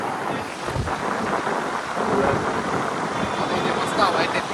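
Outdoor breeze buffets the microphone with steady, loud rumbling gusts that rise and fall throughout. Faint voices can be heard beneath it.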